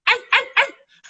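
A new puppy gives three quick, high, yappy barks in a row, close by, then a brief softer whimper.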